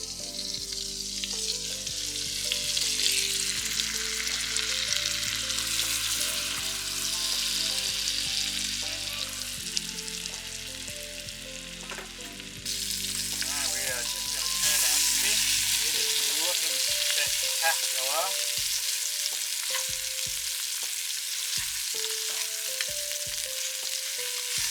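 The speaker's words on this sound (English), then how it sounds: "Got our freshly coated delicious fish, we're just going to chuck that into the fry pan." Freshly coated fish fries in butter in a fry pan, a loud continuous sizzle lasting throughout, with clinks and scrapes of cookware and some faint melodic background sounds, no talk.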